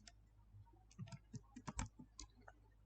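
Keystrokes tap out on a computer keyboard, a burst of about a dozen close, crisp clicks in an uneven rhythm over faint steady background hum, with no voices.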